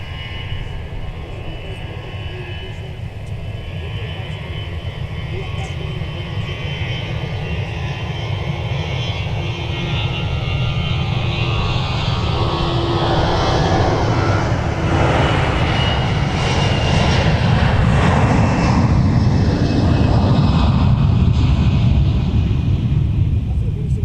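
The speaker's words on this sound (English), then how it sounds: "get ready to start your roll to rotate salute, because now we're going to get to show 2749 former Northwest A320 to Austin" A former Northwest Airbus A320 jet rolls down the runway and takes off at MSP airport, its engine roar building steadily from a constant rumble to a loud broadband surge, with a faint voice under it.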